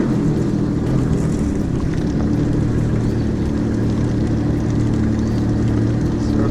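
Steady low engine drone of a jet ski fitted with soundproofing, running at a constant throttle without pause, loud and close, with no voices.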